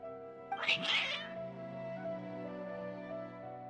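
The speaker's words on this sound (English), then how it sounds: "Your cats seem pretty worked up." Agitated cats in the Genshin Impact video game let out a quick burst of loud, overlapping meows and a short caterwaul, which then give way to sustained background game music.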